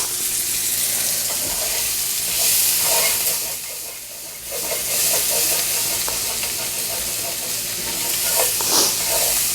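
Vegetables cook down in olive oil in a pan with a continuous loud sizzle and steamy hiss, and faint stirring scrapes rise and fall throughout.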